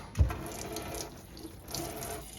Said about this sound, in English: what I need to do is just strain these beans